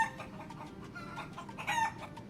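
People imitate chickens with clucking and crowing noises, voices mimicking fowl in a brief burst over a steady background hum, louder near the end.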